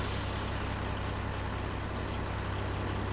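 A truck idles with a steady low engine rumble in the video game Farming Simulator 22, with a brief hiss of air brake release near the start, constant and fairly close, with no talking.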